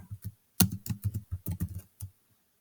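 Someone types on a computer keyboard in short bursts of quick, close clicks, separated by brief pauses, with no talking.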